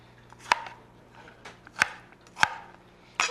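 A knife chops onions and peppers for crab cakes on a cutting board, giving four sharp, evenly spaced knocks with softer scraping between them, close and clear.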